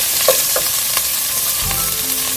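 Onion and celery sizzle and fry in a soup pot for pumpkin soup, a bright continuous hiss with a few soft stirring clicks and a low thump near the end.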